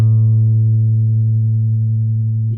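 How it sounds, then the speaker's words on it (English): Single bass guitar note A, plucked on the fourth string at the second fret, ringing loud and steady with a slow decay, alone without talk. "the 4th string, on the 2nd fret and play A."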